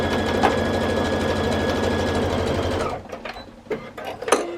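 A sewing machine stitches scrappy quilt pieces for a square-on-point quilt, running in a fast, steady whir for about three seconds before stopping, followed by a few scattered clicks and handling noises.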